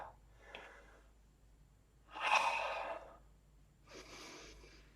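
Breath pushed out during a kriya breathing exercise: a strong, close exhale that lasts under a second, followed by a softer second breath, with quiet pauses in between.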